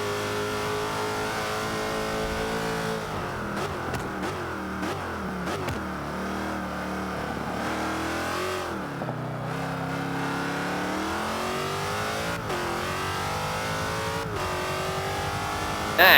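Racing car engine lapping Spa in Forza 5, revving loud and continuous with rising and falling pitch through gear changes and braking dips, close and alone for the whole stretch.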